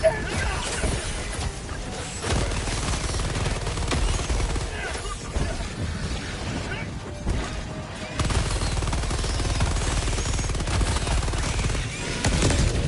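Dense, continuous automatic gunfire during a Helldivers 2 bug fight, loud sustained bursts with crashing impacts running almost unbroken, briefly dipping around the second and eighth seconds, with a voice talking underneath.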